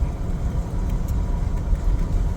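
Jeep Gladiator driving near Elkins, West Virginia, in the Stewart and Otter Creek area: a continuous engine drone and road rumble, fairly loud and steady throughout with no voices.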